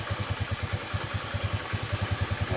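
A carbureted Honda Beat scooter idles nearby with a steady, rapid low thump, even and loud, with a light mechanical clatter running through it and no talking.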